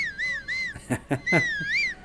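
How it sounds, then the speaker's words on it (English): A video game character in The Legend of Zelda: Tears of the Kingdom whistles clearly and melodically, rising and falling in short phrases, broken by a few soft thumping beats in the middle. "But I'm apparently whistling."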